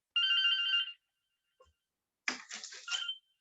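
A landline telephone gives one sustained electronic ring, falls silent with a faint click, then rings again in a rougher, clattering burst. It sounds close, with no speech.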